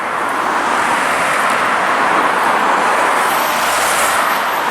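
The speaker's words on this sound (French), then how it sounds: "C'est dommage qu'il y ait toutes ces voitures." Road traffic roars past a flowering garden, a continuous broadband wash of cars passing nearby with no pauses and no voices.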